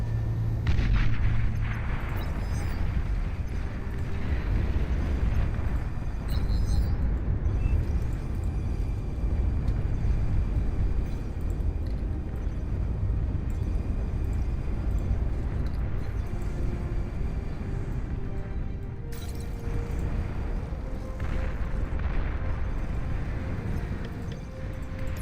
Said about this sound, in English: Catapults, there they go. Firing away.